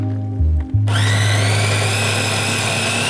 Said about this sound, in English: let's blend it up in our food processor